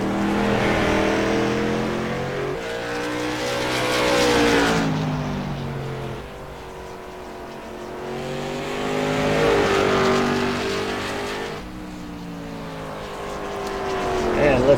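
A Twisted T 99 Chevrolet late model race car on a qualifying lap holds a loud, steady engine roar that rises and falls as it circles the track, with an announcer talking over it.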